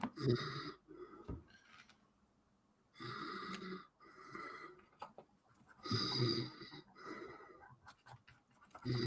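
A person snores in slow repeated cycles, a few rough rumbling breaths spaced a couple of seconds apart with quieter gaps between, fairly close and faint, with no talk.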